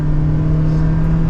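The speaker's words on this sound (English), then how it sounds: "Let's do another acceleration. If we had to merge into traffic here" A 2023 Toyota Prius Limited, fifth generation, accelerates to merge into traffic, a loud steady whirring drone with a strong constant hum and no speech over it.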